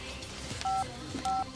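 Two short electronic keypad tones from a cell phone being dialed, faint and spaced about half a second apart over a quiet room background.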